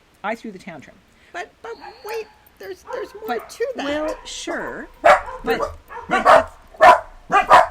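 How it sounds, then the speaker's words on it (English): Barking from pet dogs at home, a few loud sharp bursts in the second half, mixed in with ongoing conversation between people talking throughout. "we have barky dogs. Oh, that's my dog."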